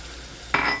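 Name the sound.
milk added to hot pan sizzling, making walnut halwa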